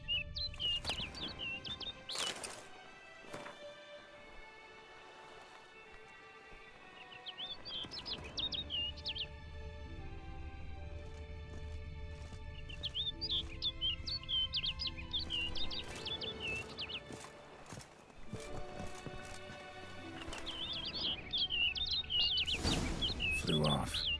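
Songbird chirps and tweets repeat throughout in The Witcher 3, bright trilling calls in bursts over a steady game ambience, with sharper clicks and rustles at moments.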